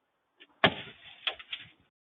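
A hammer swung by a café owner cracks hard into a customer's car windshield, one loud close impact with a short ringing tail, followed by two lighter knocks.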